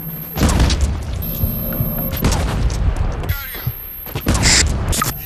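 In the video game Brink, a Cortex Bomb explodes amid loud combat: heavy booms and bursts of gunfire-like blasts crowd the mix, with a sharp, bright detonation near the end.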